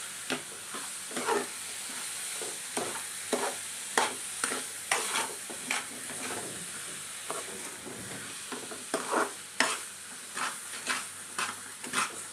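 A sweet filling with sugar is stirred in a kadai over low flame, a repeated scraping and sizzling rhythm of spoon strokes against the pan, close and steady with no talking.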